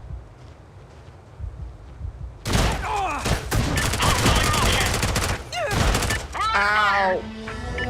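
Shotgun fire in the video game Space Engineers erupts after a quiet start into a close, heavy volley of repeated blasts and thuds, with shouting voices breaking in toward the end.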